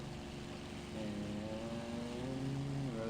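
A WWII propeller aircraft engine from IL-2 Sturmovik 1946 drones steadily during takeoff, a low buzzing hum that rises slightly in pitch and level partway through, continuous and fairly quiet, with no voices.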